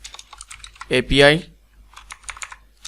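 Keys clack on a computer keyboard as web code is entered for a Shopify app backend, a quick scatter of taps before and after a spoken phrase that cuts through the middle.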